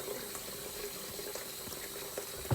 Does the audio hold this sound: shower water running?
yes